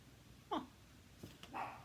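A pet dog whimpers with a couple of short rising whines and a soft yip, close but faint in a quiet room, no speech.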